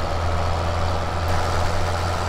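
A tractor engine idles in Farming Simulator 2017, a steady low drone with a constant hum and no talking.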